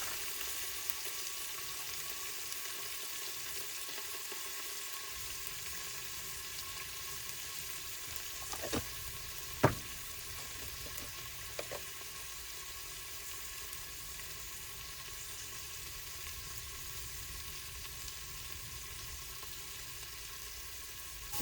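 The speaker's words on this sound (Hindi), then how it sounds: "इनसे बात करने के चक्कर में प्याज तो चढ़े गए, हल्के हल्के भुन सी गए" Onions browning slowly in a pressure cooker at a roadside stop, with a steady broadband sizzle throughout, a few faint clinks of utensils near the middle, and no voices.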